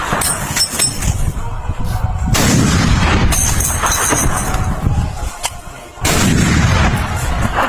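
Rapid gunfire in a Ukraine war combat scene, loud bursts of shots and booms packed close together across the whole stretch, with heavy low rumble and brief lulls between volleys.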